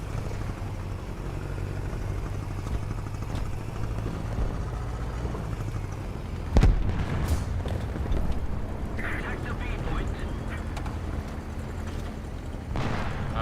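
Gunfire and explosions in War Thunder: a steady low rumble of engine and battle noise, then a sharp loud blast near the middle followed by scattered booms and crackle, with talk over it.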